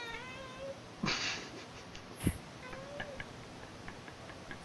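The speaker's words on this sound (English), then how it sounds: "Can't tell if that was a baby or your cat. It's my cat." A house cat lets out a couple of faint, wavering meows in the background of a quiet room, with a sharp click partway through.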